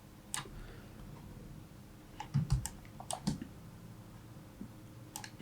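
A computer mouse clicks quietly while someone works in Photoshop: a few soft, isolated clicks, then a small cluster of quick taps, close and faint against a quiet background.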